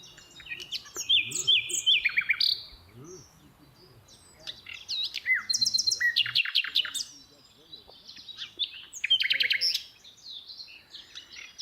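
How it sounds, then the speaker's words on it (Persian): Songbirds trill and chirp in repeated bursts on a hillside hike toward Takht-e-Sang, clear and fairly near, with quiet pauses between phrases. "پرنده خانده رهیه ماشالله"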